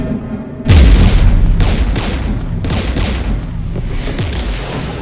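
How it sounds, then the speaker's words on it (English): Heavy gunfire and booming explosions in the video game Mass Effect 3 start with a sudden loud blast, followed by a dense, sustained barrage of shots and rumbles, with no speech. "We're taking fire."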